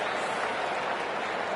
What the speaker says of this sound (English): The crowd is on their feet to admire that piece of cricket.